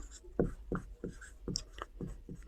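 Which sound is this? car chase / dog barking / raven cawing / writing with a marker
writing with a marker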